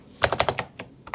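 Rapid clacky keystrokes on an 8BitDo Retro Mechanical Keyboard, about eight crisp close-up presses in an uneven burst with a short pause before the final two.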